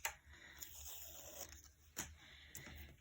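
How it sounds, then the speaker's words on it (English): Removable tape peeled off a backing during a stamping and die-cutting craft session, giving short tearing, crinkling pulls in bursts, close and quiet, with no talking. "I'm just going to take my removable tape from my other one"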